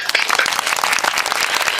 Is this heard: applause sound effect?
yes